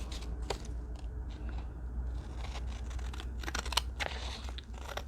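Scissors trim the edges of a paper cover with quiet, repeated snips and crinkles. A low steady hum runs underneath, and no one speaks.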